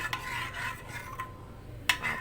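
Flour gets stirred with warm milk in a bowl for walnut laddus, producing soft, close scraping and rubbing strokes with a few sharper clinks of a spoon against the bowl, and no talking.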